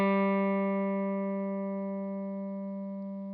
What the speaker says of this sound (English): When I pick the string, you'll at first hear the G note, but as it decays, you'll start to hear a higher pitched, different note.